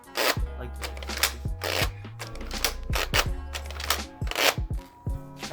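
Plastic clacks and snaps from a Nerf Elite 2.0 Flipshot Flip 16 blaster being flipped over, a run of sharp mechanical clicks and knocks in an uneven rhythm, close and fairly loud.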